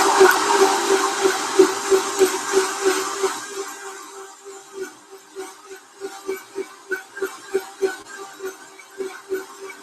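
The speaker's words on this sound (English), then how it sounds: "It does take a little bit longer to blend because it's those fibrous little things" A blender churns soaked sea moss with green tea in a loud, steady whir that eases after a few seconds into a quieter, rhythmic pulsing as the fibrous mixture cycles through the blades.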